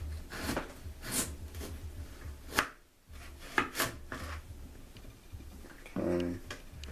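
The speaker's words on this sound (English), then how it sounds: "we're going to chop 2 small red potatoes into smaller pieces" Small red potatoes chopped into smaller pieces on a cutting board, with a series of sharp, close knife thuds spaced irregularly, a short pause midway, then a few more cuts.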